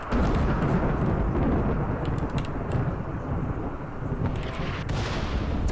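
Mortar fire booms in the colony game Rimworld, a dense, loud roll of blasts and rumble with a few sharp cracks near the end, and no speech.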